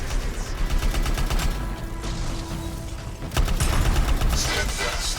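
Rapid bursts of gunfire against Valkyries in the sci-fi shooter Anthem: dense overlapping shots fire almost continuously, briefly thin out, then surge back loud and crowded, with faint voices mixed in beneath.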